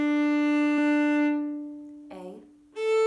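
A bowed violin sounds its open D string in a sustained, bright, close tone that fades away. A short spoken phrase follows, then another higher bowed note begins.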